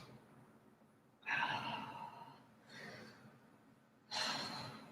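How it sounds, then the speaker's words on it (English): Three slow, deep breaths during a relaxing evening yoga session, each a soft, airy exhale like a sigh, close to the microphone with short quiet pauses between them. "couple deep breaths here"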